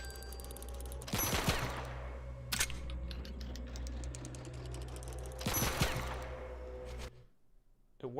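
Pistol reload effect in a video game under development: a pair of sharp mechanical clicks and clacks, one early and one later, separated by a steady low hum, with a brief tap in between.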